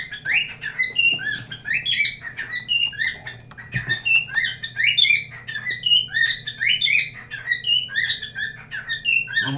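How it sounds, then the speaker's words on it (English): A single bird indoors chirps and squawks continuously in rapid, shrill bursts close by, with brief pauses between runs of tweets over a faint low hum. "I'm waiting for the bird to shut up."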